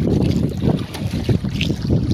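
A small wooden baloto boat carries riders over open water, with a steady rush of water and wind buffeting the microphone and no voices over it.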